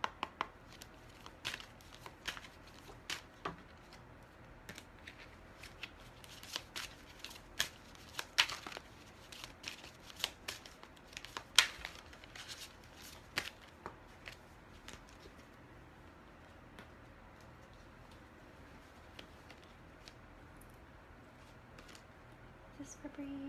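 Cards are shuffled for a tarot-style pull, a run of soft, quick riffles and snaps, some crisp and close, scattered irregularly across a quiet room.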